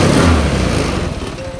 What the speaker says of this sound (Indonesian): Coba langsung kita gas full 3 kali aja, kita coba ya, gas full.